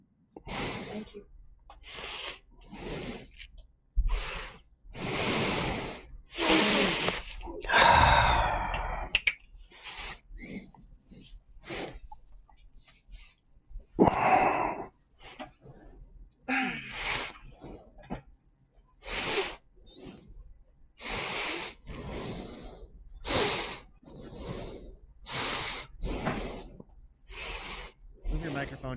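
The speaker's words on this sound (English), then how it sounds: "Move your microphone down. You're breathing into it." Heavy, rhythmic breathing blasts straight into a close microphone, loud hissing puffs repeating every second or two, with brief bits of talk between them.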